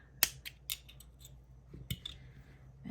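Scissors snip through crochet yarn on a handmade purse, a few crisp metallic clicks spaced apart over a couple of seconds, close and quiet against a still room with no talking.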